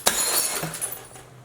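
A glass bottle breaks on a floor, one sharp crash followed by bright shattering and tinkling shards scattering for about a second, up close and loud.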